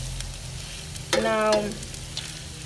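Kung Pao chicken sizzling in olive oil on an outdoor griddle, a sudden loud hiss and crackle that swells for about half a second before settling into a softer fry, with a brief spoken word before it.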